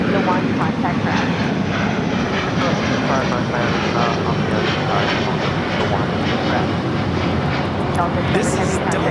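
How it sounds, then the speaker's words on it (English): A Delta Airlines Airbus A330neo takes off at LAX bound for Tokyo Haneda, its engines sending up a loud, steady, broadband roar that fills the whole stretch without pause. "This is Delta Airlines Flight 7 taking off to Tokyo Haneda on the A330neo"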